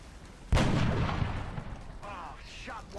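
A single sharp gunshot booms in the XCOM: Long War strategy game as a shot goes wide, followed by a decaying rumble and faint game voices.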